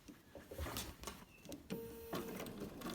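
A sewing machine stitching a quilt binding, short quiet bursts of whirring stitches with brief pauses and clicks between them, faint and close with no talk.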